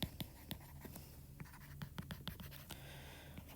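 Marker or chalk scratching on a board during a lecture: faint, irregular strokes and taps in quick clusters against a quiet room.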